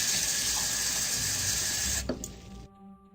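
A coffee mug filling with water in a Halloween flash game, a steady loud rush of pouring water from a tap that cuts off abruptly near the end, leaving a faint hum.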